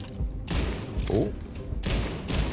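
Rapid-fire weapon bursts in the Starfield video game come as several loud, thudding volleys separated by brief gaps, with faint speech underneath.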